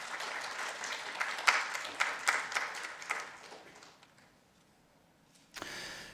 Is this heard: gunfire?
no